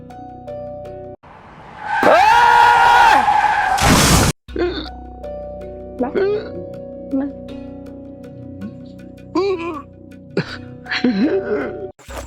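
A vehicle skids with a loud, sustained screech that ends in a sharp crashing burst, followed by quieter wavering squeals and thuds.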